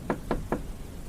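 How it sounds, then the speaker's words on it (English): Three evenly spaced, firm knocks on an RV door, sharp and close, with a faint steady background hiss. "I heard a knock at the door"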